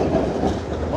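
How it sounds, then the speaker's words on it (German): Line 5 tram passing along a main road through Nuremberg's Südstadt near the Christuskirche, a loud close rumble with clattering wheels on the rails. "Hier kommt schon die Straßenbahn."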